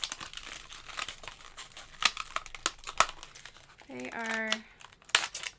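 Sticker packs pulled from crinkly plastic packaging during a scrapbook kit unboxing, giving close, repeated crinkling and tearing rustles, with a brief voice speaking partway through.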